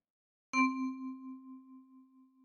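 A single key of a ten-key kalimba plucked by the right thumb gives one bright, bell-like tone that rings on and slowly fades with a gentle wobble, close and solo in quiet.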